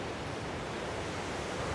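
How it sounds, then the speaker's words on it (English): A loud river rushing far below in Linville Gorge, a dense, unbroken roar of white water with no other sounds standing out. "Got the river down there, really loud"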